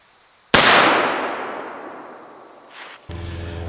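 A muzzleloading 1911 pistol fires once at steel targets outdoors: one loud, sharp crack close by that trails off in a long fading ring, followed by a short clank and a low hum.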